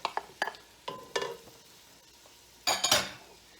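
A utensil stirs chopped celery, carrots and eggplant cooking in oil in a pot for minestrone, giving a few sharp scrapes and clanks, then a louder burst of scraping and faint sizzling near the end.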